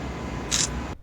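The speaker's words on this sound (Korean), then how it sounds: "셔터를 동시에 누를 수가 없어서 시간 차이가 나 보이는데" A brief electronic shutter click from Galaxy Note 20 Ultra and S20 Ultra smartphone cameras, a single short bright tick over steady background hiss, followed by quiet.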